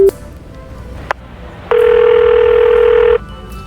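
A phone call being placed to someone: a couple of short beeps, then a single long, loud ringback tone lasting about a second and a half, clear and close with no talk over it.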